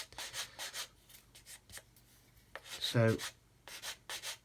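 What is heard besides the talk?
sanding away sprue residue on an Airfix Vulcan plastic model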